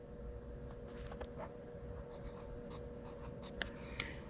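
A pen or pencil scratches a number onto paper during a Stihl 025 chainsaw performance build in a workshop, giving quiet, close strokes and taps over a faint steady background hum.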